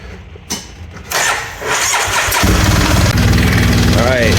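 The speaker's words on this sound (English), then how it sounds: "let me start her up and show you what we're working with here" A vehicle engine with a freshly replaced drive belt cranks briefly, then catches and roars into a loud, steady idle close by, with clatter and handling noise at the start.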